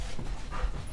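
A hyper, playful dog pants rapidly and breathily at close range, with a rough, continuous rhythm of quick breaths.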